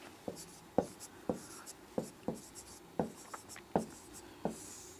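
Pen or pencil writing notes on paper, a series of distinct scratchy strokes and taps at an irregular rhythm, close and fairly quiet, with no talking.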